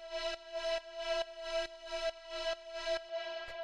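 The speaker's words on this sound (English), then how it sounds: "we just have this FM sound" A bright FM synth pad repeats a single held E note in a steady chopped pulse, about eight even stabs, with a rich buzzy tone and no talking.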